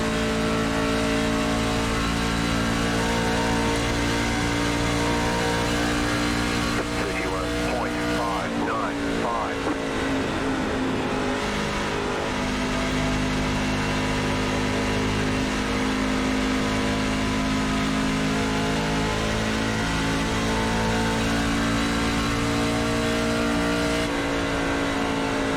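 A NASCAR stock car engine in the iRacing sim at Texas drones at high revs throughout, briefly dipping and climbing again near the middle, with a voice talking over it.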